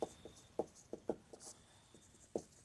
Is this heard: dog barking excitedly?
no